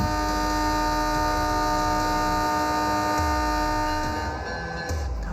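A train running on the Karachi Circular Railway track, a steady, loud rumble with sustained tonal hum and horn-like drone that eases slightly toward the end, with no voices.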